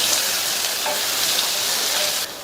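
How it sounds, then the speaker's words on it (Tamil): Curry leaves being stirred into a sautéed masala for a Tamil ivy gourd and onion curry, a steady, dense sizzle with faint scraping, close and unbroken with no talk. "அடுத்து இதில் பொடியாக கட் பண்ண கருவேப்பிலை இலைகள் கொஞ்சம் சேர்த்துட்டு நல்லா ஒரு தடவை கலந்து விட்டுறலாம்"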